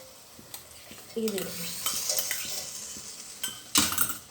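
Salted vegetables are stirred and cooked in a kadhai, a utensil scraping and clinking against the metal over a soft sizzle, with someone speaking briefly.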